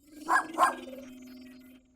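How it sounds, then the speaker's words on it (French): A small cartoon dog gives two quick high yips close together, followed by a soft sustained hum fading out. "Un petit chien."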